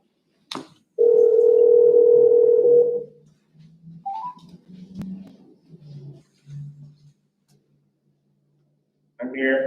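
A telephone dial tone sounds for about two seconds while a call is being placed, a clear steady tone, followed by short beeps and sparse speech.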